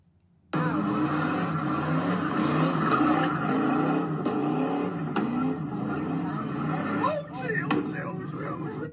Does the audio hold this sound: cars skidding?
yes